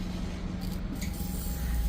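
Pressurised water sprays steadily from a Maruti Suzuki S-Presso fuel pump, a continuous hissing rush held loud and close for the whole stretch.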